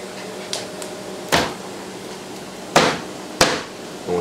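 Hand strikes on a table during cooking: three sharp, loud thumps, plus a couple of lighter taps and a soft knock at the end, close by with no talking.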